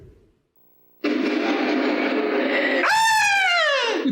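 A person lets out a loud, sustained scream during a VHS board game night, starting abruptly after a brief quiet moment and rising into a shrill, wavering peak before trailing off.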